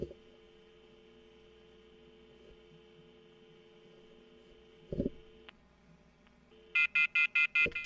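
An external dial-up modem with a steady electrical hum and carrier tone, a brief click near five seconds, then a run of six loud, evenly spaced dialing tone bursts at the end, with no voices.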